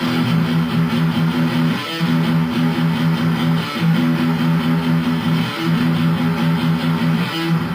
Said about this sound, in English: and then right after that you go back to the palm muted low E strings.